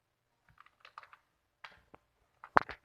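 Short bursts of key presses on a computer keyboard, a few clicks spaced apart then a louder quick cluster at the end, close and otherwise quiet.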